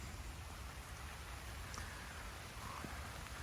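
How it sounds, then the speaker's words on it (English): Steady rain falling outdoors during winter, a soft continuous hiss of drops on surfaces, fairly quiet and even throughout with no voices. "It's starting to rain."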